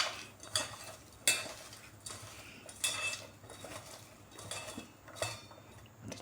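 A pinch of asafoetida and spices being mixed and rubbed by hand into bhaji batter in a bowl, with soft scraping, squishing and occasional clinks against the bowl, close and steady, no talking.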